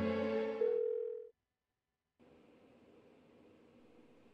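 In the Persona 4 Golden video game, a phone call fails to connect: a steady tone with a sharp onset cuts off abruptly, a second of silence follows, then a fainter buzzing line tone runs to the end.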